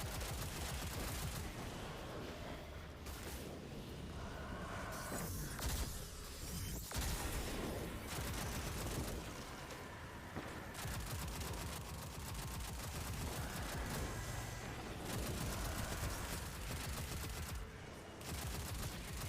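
Video game gunfire crackles almost nonstop, with rapid bursts and single shots layered into a dense, busy barrage that stays at a fairly low level throughout.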